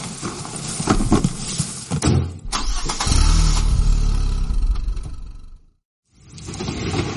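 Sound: car engine starting and driving off

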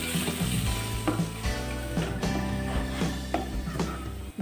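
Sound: cashew nuts frying in pan

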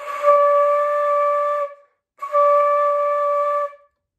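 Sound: flute playing the note C sharp

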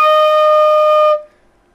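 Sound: marching flute playing note F

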